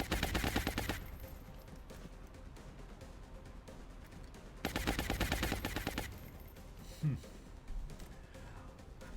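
Bursts of rapid automatic gunfire in XCOM: Enemy Within with the Long War mod, two long volleys several seconds apart plus a few single shots, loud and close.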